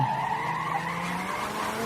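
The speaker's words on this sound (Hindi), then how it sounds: "पवन ने रिवर्स में ही गाड़ी दौड़ाई" A car reversing at speed with tires skidding, a loud sustained squeal that wavers in pitch over an engine drone, staged as an audio drama effect.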